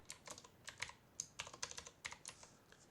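Typing on a computer keyboard in an Excel spreadsheet, a quick irregular run of soft close key clicks with no talking.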